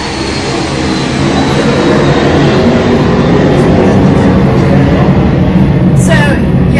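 Loud, steady broadband roar of an airplane flying overhead, filling the whole span at constant level, with a person's voice underneath at times.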